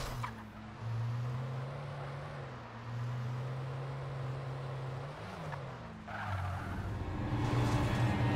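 A tractor in the Alan Wake video game gives a low, steady engine drone that wavers slightly in pitch, with a rougher surge of noise toward the end.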